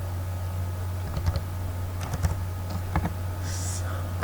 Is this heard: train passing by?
no